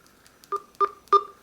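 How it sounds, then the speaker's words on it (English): A Nexus 6 phone running a custom ROM gives its volume-adjustment beep, three short electronic beeps spaced evenly in quick succession, clean and close with no talk. "Now it does have a volume adjustment sound where you can disable the annoying little beep"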